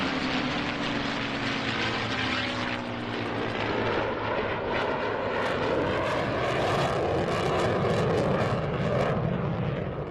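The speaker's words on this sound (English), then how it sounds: "the afterburner from the jet's F-135 engine standing out well against the darkening sky" An F-35 with its F135 engine roars steadily at an evening air show, a loud, sustained jet rumble and whoosh that swells and shifts in pitch over about ten seconds as the aircraft passes.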